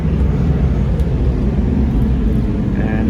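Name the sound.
airplane taking off from nearby airport runway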